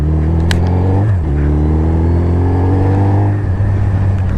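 A lorry passes close by on a mountain road, its loud engine droning steadily with a shifting pitch as it goes by, with a brief horn-like tone near the start.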